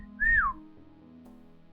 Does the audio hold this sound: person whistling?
yes